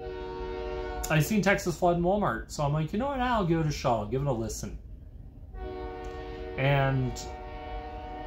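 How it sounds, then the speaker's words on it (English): A passing train sounds its horn in long, sustained blasts in the background, steady under someone talking, then continuing alone after he pauses before his voice returns. "sorry for the train"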